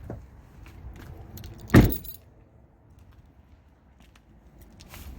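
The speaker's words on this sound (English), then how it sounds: "Let me grab my keys." Car keys for a 2006 Chevy Monte Carlo jangle once in a short, close burst, then fade into quiet surroundings.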